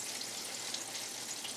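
Food frying in heated oil, a steady, faint high hiss and crackle of sizzling without pauses.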